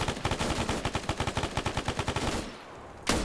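An MG3 machine gun in a video game fires a rapid burst of about twenty evenly spaced shots, close and loud, then stops briefly before one more sharp report.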